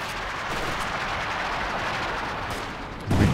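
Automatic gunfire in Company of Heroes 2 during a 2v2 match: a steady, distant crackle of continuous machine-gun fire over a battlefield din, with a heavier thump near the end.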